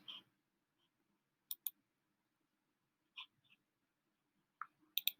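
Sparse computer mouse clicks, single and double, come at irregular intervals close to the microphone in an otherwise quiet room with no talking.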